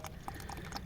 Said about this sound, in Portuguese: Coloquei a sopa aqui dentro e agora água caliente.